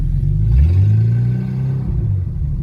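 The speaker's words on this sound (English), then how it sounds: "So when I normally press the gas," Classic car engine with a 6-volt charging system revving as the gas is pressed, a loud rising low rumble that swells for a couple of seconds and then settles back to idle.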